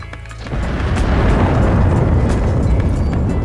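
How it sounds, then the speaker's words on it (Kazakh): A bomb explosion in the online shooter CS:GO bursts in after a brief lull, then a loud, dense rumble roars on steadily to the end. "Бомба не істейді? Жарып жібереді екен"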